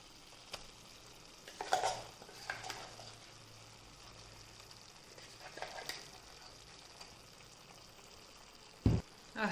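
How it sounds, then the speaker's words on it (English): Chana dal paste being stirred into cooked banana flower in a pan, with a soft scraping and sizzling texture, a few louder stirring strokes, and a sharp clank of a utensil near the end. "Now mix it thoroughly so that both banana flour and chana dal paste will mix thoroughly."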